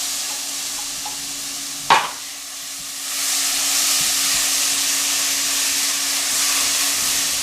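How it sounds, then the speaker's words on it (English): Tomato sauce poured into rice cooking in a pot for Hot Cheeto burritos, giving a short sharp splash and sizzle that grows into a steady, loud hiss of steaming and frying. "I'm going to add in my tomato sauce"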